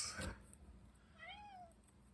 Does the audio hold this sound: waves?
no